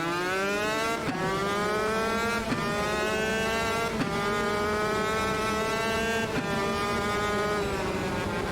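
Kart engines in a sim racing game whine at high pitch with rising and falling revs, briefly cut by gear-like drops roughly every second or two, loud and continuous with no talk.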